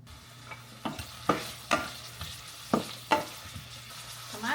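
Cooking oil sizzling in a kawali for pinakbet, a steady low hiss broken by several sharp stirring clatters of a utensil at irregular intervals, close and fairly quiet with no talk.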